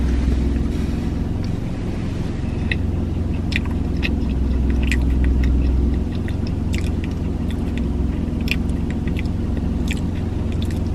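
Someone chewing a white fudge Timbit close to the microphone, with soft, irregular sticky bites and small crunchy clicks spread over a low steady hum and no speech.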